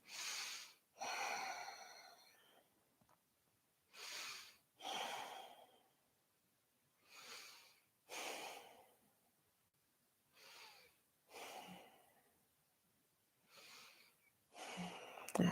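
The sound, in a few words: deep breathing during yoga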